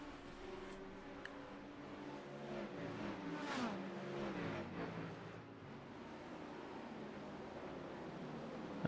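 Race cars in a racing video game, a Corvette among Chevy and Ford GT machines at Circuit Gilles Villeneuve, drone with a steady engine roar, rising and falling as a car passes close around the middle, over constant track noise.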